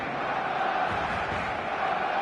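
A steady stadium crowd roar fills a football match in the eFootball 2026 video game, a dense continuous wash of voices holding at one level throughout with no clear peaks.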